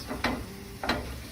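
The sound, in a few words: bellinis being flipped and frying in a pan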